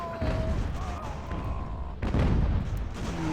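Musket and cannon fire in the video game Ultimate General: American Revolution booms and crackles in a continuous battle din, with a heavier volley midway and tonal game sounds over it.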